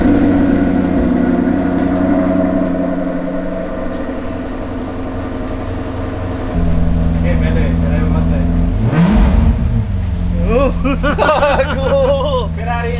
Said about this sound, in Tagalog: So this is a Ferrari engine.